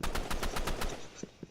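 Video game gunfire in a robot shooter, a rapid burst of about eight evenly spaced shots, followed by two lower, duller thumps.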